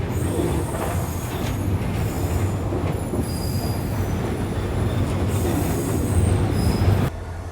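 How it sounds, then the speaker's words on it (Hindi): A Malaysian jungle train rolls steadily along the rails with a constant loud rumble, metallic wheel squeal and faint clickety-clack throughout, the noise dropping off suddenly at the very end. "अब मेरे ख्याल से ट्रेन डिपार्चर के लिए तैयार हो जाएगी।"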